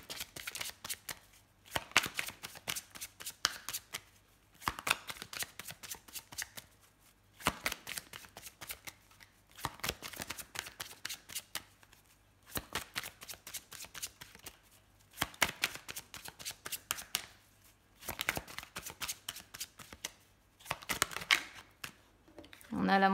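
Tarot cards being shuffled and laid out into a square of nine, with bursts of riffling and snapping card sounds in repeated rhythmic waves, close up, under intermittent talk.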